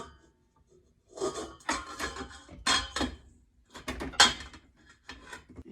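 Taste Connections bread mix poured into a bowl in several short bursts, dry gritty rustling and scraping with brief pauses between pours, close and fairly quiet, no voices.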